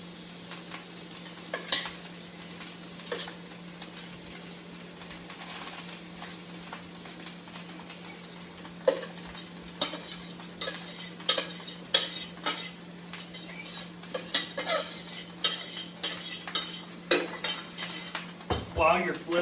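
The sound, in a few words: rice frying in butter, stirred and flipped in pan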